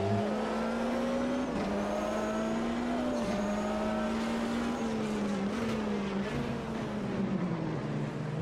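Race car engines roar steadily in Automobilista 2 at Daytona, GT2 traffic and a GT1 Maserati on track, a loud continuous drone with pitch shifting up and down through gear changes, heard alone.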